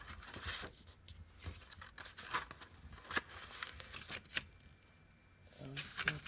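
Paper being cut down by hand for a handmade junk-journal envelope, with scattered close snips, crinkles and rustles spread across a quiet craft table, a short faint lull, then a denser burst of handling.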